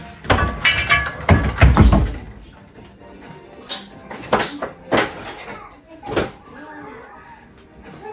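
Metal pans and cutlery clatter loudly in a home kitchen as a lamb steak dressed in olive oil goes into the oven, with a burst of clanking up front followed by scattered knocks and bumps.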